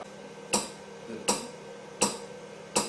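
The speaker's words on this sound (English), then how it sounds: "The ticking noise you can hear in the background is the machine" Sharp ticks from a Pulse Energy Replenisher (PER) therapy machine, four evenly spaced clicks about three quarters of a second apart over a low background hum, close and moderately loud.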